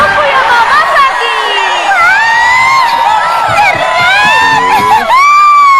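A crowd of children at a music stage shouts and cheers loudly and continuously for a singer, with high, rising whoops and screams overlapping throughout.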